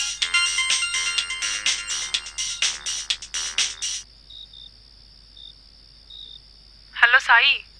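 A phone ringtone plays loudly in a Telugu romance drama scene, a repeating bright electronic melody for about four seconds, then a thin steady tone, followed by a short high chirping sweep near the end.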